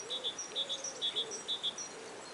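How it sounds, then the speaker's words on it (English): Strange electronic-sounding bird calling from a tree, a rapid series of short, clean, high-pitched chirps in repeating pairs, clear and fairly close over quiet background hiss. "It seems an electronic bird or something like that."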